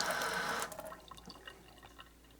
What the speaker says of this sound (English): And then I'm going to rinse it off